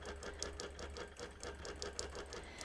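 A sewing machine stitches rapidly during free motion quilting of a baby quilt, giving a quiet, even mechanical chatter of closely spaced needle strokes.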